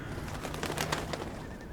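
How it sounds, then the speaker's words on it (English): Crows cawing in The Secret World video game, a few short calls at middle distance against steady background ambience, with no talk. "No, just crows."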